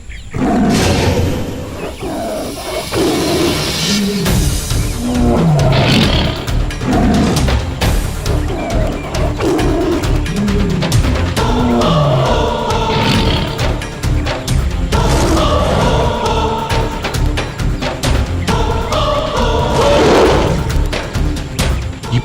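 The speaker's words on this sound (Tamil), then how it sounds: "இப்போதே புலியும் சிறுத்தையும் உருமும் சத்தம் பெரிதாக கேட்கிறது." Tiger and leopard roaring in a mythological drama battle scene: loud, repeated roars and snarls overlapping with booming crashes and bangs, continuous and close throughout with no speech.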